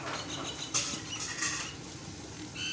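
A metal pot handled before melting wax in it, with scattered light clinks and scrapes at close range, no talk.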